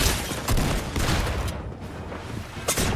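Dense, rapid gunfire from an opponent in a Fortnite-style shooter game crackles almost continuously for a few seconds, loud and close, with a short lull before a final burst.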